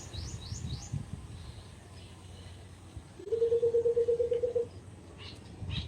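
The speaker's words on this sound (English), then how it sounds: "The birds." Birds chirping, with a few quick high twitters early on and then a loud, rapid run of repeated tonal notes lasting over a second, set against quiet background rumble.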